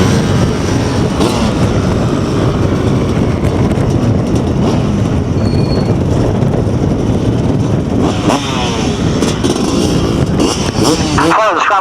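Loud, continuous buzz of KTM 65cc junior motorcycles racing on sand, engines droning and shifting pitch throughout, with a rising rev near the end.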